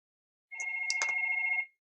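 A telephone rings with one continuous electronic trill lasting about a second, moderately loud and clear, with no one talking over it.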